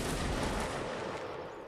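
Musket volley in a Napoleonic Wars battle game, a dense rolling crackle of many shots merging into one continuous roar that slowly fades over under two seconds.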